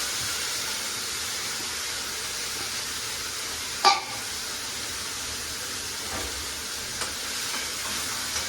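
Potatoes sizzling and frying in a pan, a steady hiss of oil with a sharp clatter of stirring partway through and a few faint clicks later, no voices.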